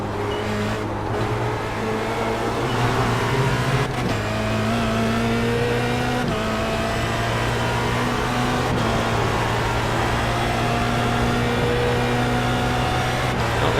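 A Formula Renault 2.0 race car engine drones steadily in a racing game, holding a loud, sustained tone with pitch shifts as it upshifts and accelerates along a fast straight, close and continuous throughout.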